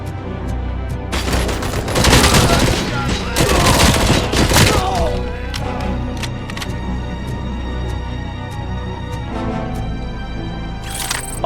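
Bursts of rapid gunfire from a newly picked-up weapon in the Robocop Rogue City video game, loud clustered volleys with booming impacts, then sparser single shots trailing off.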